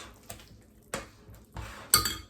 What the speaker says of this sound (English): you're gonna go ahead and crack over your eggs